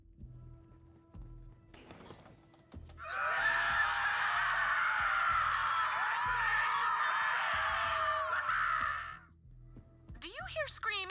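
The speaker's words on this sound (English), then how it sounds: "Do you hear screaming, or am I having another one of my episodes?" Screaming in Borderlands 3 erupts as a loud, sustained shriek lasting several seconds amid game sounds, with speech before and after it.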